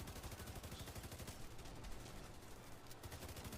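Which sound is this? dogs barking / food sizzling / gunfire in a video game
gunfire in a video game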